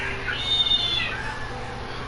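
A house cat meows once, a drawn-out, rising-then-falling call heard fairly near in a quiet room, with faint background hum around it.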